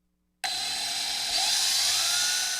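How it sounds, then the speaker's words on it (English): A power drill bores a mounting hole for an antenna flange, starting abruptly after a brief silence. It then runs as a continuous high-pitched whine that rises slightly in pitch partway through, loud and close, with no talking. "So we'll just mark and drill the 4 mounting holes for the flange."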